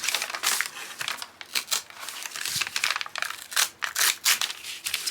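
Painted paper being torn by hand for a handmade junk journal, a series of close, crisp ripping and crinkling bursts in uneven rhythm, with short pauses between tears.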